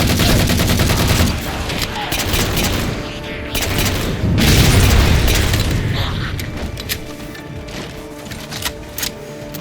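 In the Halo 4 video game, a missile explosion booms amid dense, continuous gunfire and crashing battle noise. The volley is loud and sustained, with a heavy low rumble swelling in the middle.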